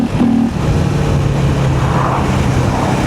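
KTM 390 Enduro R single-cylinder motorcycle with a modified airbox, its engine loud and close, holding a steady throaty drone with a brief rise in revs at the start.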